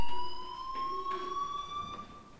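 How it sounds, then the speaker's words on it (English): A fire alarm rings in the video game Life is Strange: a steady, shrill electronic tone with bright harmonics, held continuously and fairly loud throughout, with faint background noise and no talking. "Hey, do you hear that fire alarm?"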